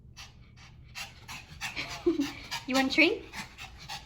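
Candy the dog pants in quick, breathy huffs close by, the rhythmic panting broken by a few snorty breaths while a person speaks briefly over it.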